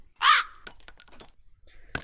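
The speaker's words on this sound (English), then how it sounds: "Random bird." A single loud, harsh caw from a bird in the Nancy Drew: The Haunting of Castle Malloy video game, followed by faint scattered clicks and small metallic ticks.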